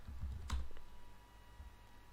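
Website address typed on a computer keyboard, a short quick cluster of key clicks near the start, then quiet room tone for the rest.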